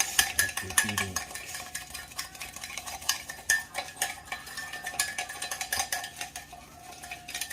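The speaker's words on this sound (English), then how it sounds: "now we must stir it. Like you're beating eggs" Cuban coffee is whisked vigorously in a cup, as if beating eggs: rapid, continuous clinking and scraping of a spoon against the cup, close and busy, with no talk.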